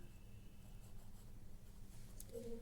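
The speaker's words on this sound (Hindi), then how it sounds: "मैं लिख देती हूँ यहाँ," Someone writes by hand while working through an accounting illustration, producing a faint, steady scratch of pen on paper over a low background hum, with a brief squeak near the end.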